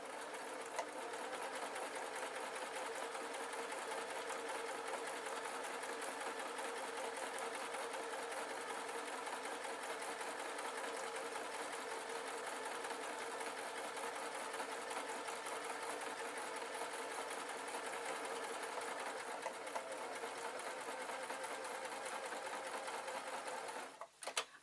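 A sewing machine stitches a simple jacket with binding tape, running in one steady, unbroken whir at close range for the whole stretch, then stopping abruptly at the end, with no voices.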